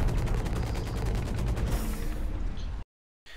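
Mech combat in the video game Hawken, with dense, continuous gunfire as a one-on-one fight unfolds, loud rapid bursts that rumble steadily before cutting to silence near the end.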